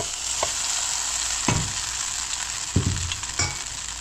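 Ramen noodles hiss and sizzle in a pan with a little oil. The frying noise is steady and close, with occasional stirring knocks and scrapes. No one speaks.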